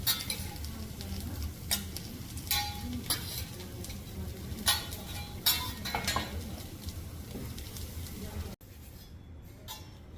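Fried rice with steak trimmings and eggs cooking on a teppanyaki griddle in Osaka, a steady sizzle under clattering spatula strikes and scraping, with background chatter throughout.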